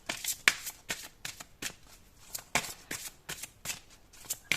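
Tarot cards being shuffled and drawn, a quick run of crisp riffling snaps and slaps repeating in bursts, close and fairly quiet, with no talking.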